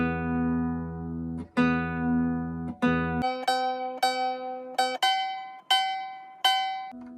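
Nylon string guitar being tuned, with the E and B strings plucked repeatedly and beating against each other. Several separate notes ring out and decay one after another, fairly quiet and close, with no voices.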